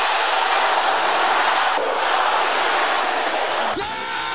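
A large congregation shouting a prayer together at a deliverance church service, a loud, dense, sustained roar of many voices that surges without pause, ending in a sudden shift of tone.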